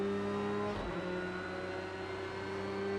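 Race car in Project Cars 2 on a bumpy street circuit, accelerating down the start-finish straight with a steady, loud engine drone and strong harmonic whine that holds through to the end.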